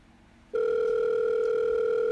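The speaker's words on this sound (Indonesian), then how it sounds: "Handphone Mia berdering" A mobile phone rings inside a woman's bag while she is away at the bathroom, giving a loud, steady electronic tone that starts abruptly and holds unbroken.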